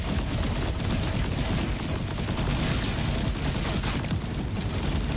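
Missile barrage from a Harlowe build in Borderlands 4, a dense, continuous roar of rapid launches and blasts that stays loud and unbroken throughout, with almost no voice.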